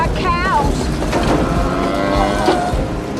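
A cow moos in a disaster movie, a long wavering low bellow that rises and bends while rumbling background noise from the film runs underneath, loud and close.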